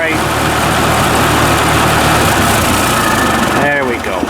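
A small vintage farm tractor, a Ford 2N, idles loud and steady close by, its engine running continuously until it starves for fuel and sputters out near the end.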